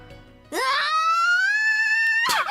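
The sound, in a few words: Misaki's loud scream in the visual novel game Aokana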